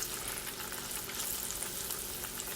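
Green tomato slices frying in a pan, giving a steady, dense, loud sizzle and crackle that holds without pause, alone with no voices.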